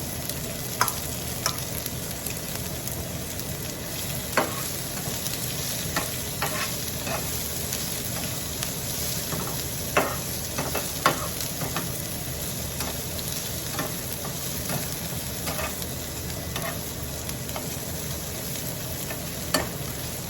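Onion sizzling and frying with panch phoron spices in hot oil, stirred with occasional sharp scraping clicks against the pan, a steady close crackle running throughout with no talking.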